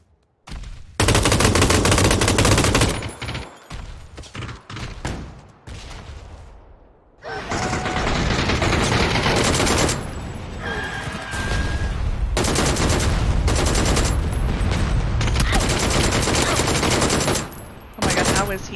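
PUBG gunfire erupts in dense bursts of rapid automatic shots, loud and close, broken by short pauses, with players' voices in between.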